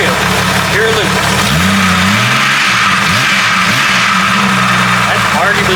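A 4.0 engine running with pure Lucas oil additive, a loud, steady close-up drone with rising and falling whines over a constant mechanical rumble throughout.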